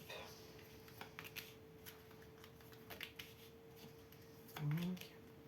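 Tarot cards shuffled and drawn by hand at a quiet reading table, a soft run of faint riffling and card slaps under a steady electrical hum, with a brief louder thump near the end.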